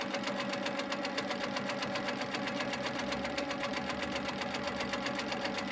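An HQ Infinity longarm quilting machine stitches steadily with a couching foot, tacking down fluffy yarn with turquoise thread, its rapid needle rhythm continuous and close without pause.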